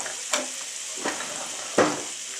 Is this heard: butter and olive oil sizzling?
yes